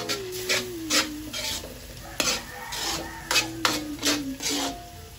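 Corned beef stirred and fried in a pan for spaghetti sauce: repeated scraping strokes of a utensil over a steady sizzle, close and fairly loud, with no talking.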